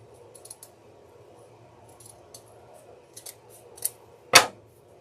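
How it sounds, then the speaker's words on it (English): Scissors snip through a flower stem at an angle, a few soft clicks building to one sharp, close cut near the end, with only faint room noise around it. "I'm going to cut this at an angle."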